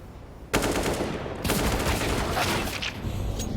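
Counter-Strike gunfire on the Overpass map during a pro match crackles in two sustained automatic bursts, sharp onsets followed by dense rattling, loud and close with a faint background hum between.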